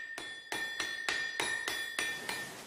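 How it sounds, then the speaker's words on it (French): A 300 kg water-powered hydraulic trip hammer strikes iron in an even, rapid rhythm, about eight ringing metallic blows in under three seconds, each leaving a bright clanging tone. "un marteau de 300 kg, capable de frapper le fer jusqu'à 120 coups à la minute"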